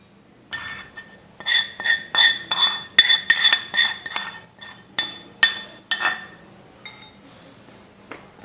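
A spoon scraping and clinking against a bowl while mango pickle ingredients are stirred together, a string of bright metallic chinks and taps in irregular bursts, close up, with no talking.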